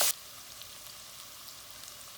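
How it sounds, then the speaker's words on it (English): Onions, carrots and garlic cooking in a pan for a cassoulet, giving a steady, soft sizzle with faint scattered crackles after a brief louder burst at the start, with no talk over it. "So now we've been cooking our onions and carrots and garlic for about 8-10 minutes."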